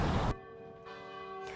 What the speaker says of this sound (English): There's a 600 and a 300-pound bell, and they've been ringing for all these victories all these years.